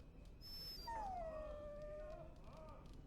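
A dog whines and whimpers in the video game Dragon Age Origins, one long drawn-out plaintive cry with a short high yelp first, close and clear over faint ambient background.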